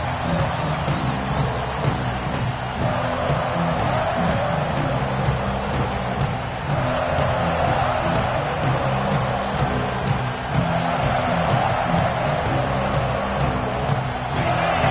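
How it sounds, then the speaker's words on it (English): A large crowd roars steadily throughout, a dense continuous wash of cheering and noise from a packed American football stadium, with no breaks. "It's early, but this crowd is fired up. Listen to this noise here."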